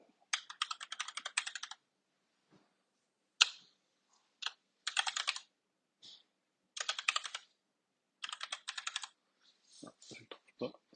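A computer keyboard is typed on in quick, crisp bursts with short pauses between them, close and clear, while someone works in Unreal Engine 5 Blueprints.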